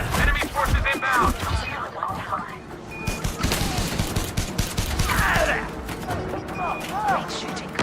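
Bursts of weapon fire crackle in Elite Dangerous: Odyssey during a ground firefight against inbound enemy forces, repeated rapid shots mixed with game effects and voices.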